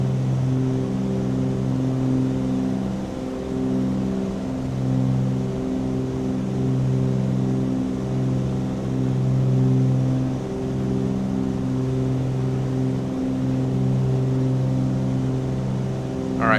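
Twin engines of a Cessna 414 Chancellor drone steadily in Microsoft Flight Simulator 2020, a loud sustained cabin hum with layered propeller harmonics pulsing slightly throughout.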